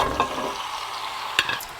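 Drained, brined meat hitting shimmering hot oil in a pan, giving a steady loud sizzle with a few sharper crackles and pops as pieces land.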